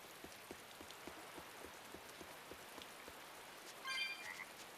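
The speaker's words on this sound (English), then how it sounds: "Frog." Frog croaks pulse steadily in a rainy outdoor scene in Tales of Berseria, soft and regular under a faint wash of rain, with a brief chiming game sound near the end.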